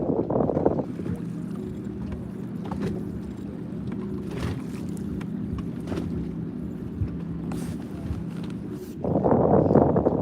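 A two-stroke boat engine drones steadily at a bass fishing outing, a constant buzzing hum with wind noise, loud and close throughout.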